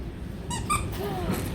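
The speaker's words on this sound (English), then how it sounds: "Oh, squeaky monster." A squeaky monster dog toy gives a few short, high rubbery squeaks at close range in a shop, with faint murmuring voices and background noise around it.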